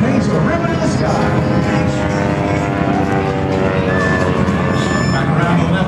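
A propeller aerobatic airplane loops over an air show. Its engine drones loudly and steadily, with a rising pitch sweep as it pulls around, over crowd babble and announcer talk.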